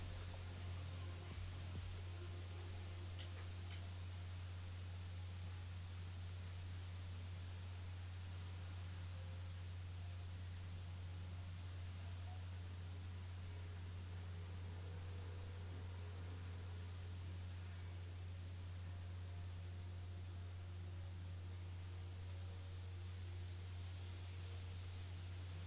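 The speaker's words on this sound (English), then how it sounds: "Wow, the wind's really blowing out here." Outdoor wind blows steadily as a broad, constant rushing hiss over a low hum for the whole stretch, with faint rustling and no talking.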